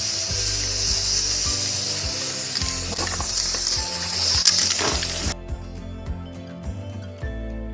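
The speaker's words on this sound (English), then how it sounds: "So I'm going to spray." A loud, continuous hiss of an aerosol spray paint can for about five seconds, then it cuts off, leaving faint clicks and a quiet room.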